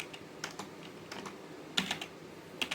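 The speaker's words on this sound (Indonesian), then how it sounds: "Lalu kita ketik nano etc," A computer keyboard clatters as a command is typed in a Debian 9 terminal, with a string of light, irregular key clicks and a few sharper taps, close and fairly quiet with no talking.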